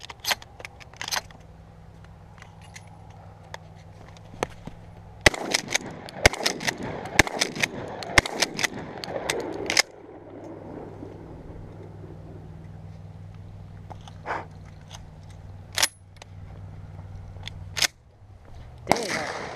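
Gunshots from a simple gun fired at a target outdoors, as a scattered series of sharp cracks, some grouped in quick bursts, with a low engine-like hum between them.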